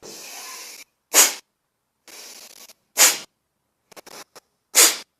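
Sneeze-like yoga cleansing breaths. Three sharp, explosive exhalations each follow a softer, longer inhale, heard close up in a quiet room, with some brief faint breathy flutters near the end.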